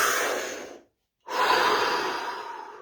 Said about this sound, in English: Deep breath, here we go.